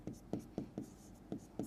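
Chalk or marker strokes on a board during a Class 12 maths lesson on relations and functions, six short scratchy taps spaced at an uneven rhythm, close and fairly quiet, with no talking.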